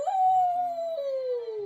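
A person imitates a wolf's howl during a tabletop game, holding one long, clear, tonal note that slowly falls in pitch, close and alone.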